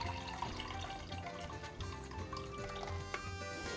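Reduced clove water is poured through a strainer for a natural botanical dye, giving a steady close trickle and splashing liquid with faint drips.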